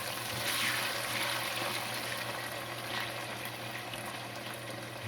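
Okra fries in a pot of grease for a sausage, shrimp and okra gumbo, giving a steady, even crackling sizzle that holds at a moderate level throughout with no voices.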